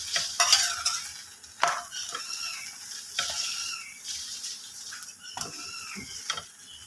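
A dal paratha fries in refined oil on a pan, with a soft continuous sizzle broken by occasional scraping and pressing sounds from a spatula, fairly close and without talk.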